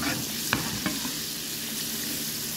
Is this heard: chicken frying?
yes